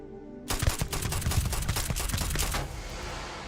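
Rapid automatic gunfire in the video game Starfield, a dense burst of sharp repeated shots lasting about two seconds, loud and close, then fading into a softer tail.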